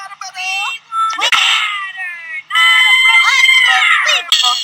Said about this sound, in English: Unbelievable screaming line drive. Best thing you can do when you hear that scream is just duck